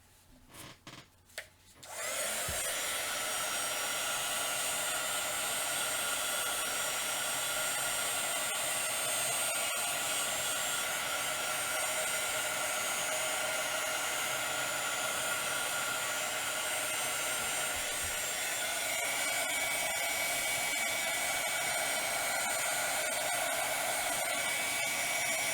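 A hair dryer blows steadily over a paper craft project, switching on after a short moment of quiet and then holding a loud, continuous whirring roar for the rest of the time.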